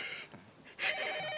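A telephone rings in a short electronic trill that starts partway through and carries on to the end, clear and moderately loud, after a few quieter, indistinct noises.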